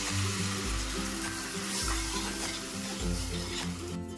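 Tamarind water goes into a pan of frying fish curry, a continuous close sizzle and bubbling hiss with some stirring and low rhythmic clatter underneath, steady throughout with no talk.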